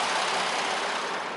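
Naturally aspirated engine of a 2022 Hyundai Palisade SEL running, a steady airy hum with a soft low drone, close and even for a brief stretch without talk.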